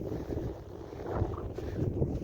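Wind blows across a village in Saudi Arabia near sunset, a steady low rumble of gusts buffeting the microphone with no talking over it.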